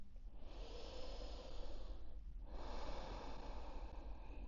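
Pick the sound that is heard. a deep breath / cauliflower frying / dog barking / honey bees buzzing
a deep breath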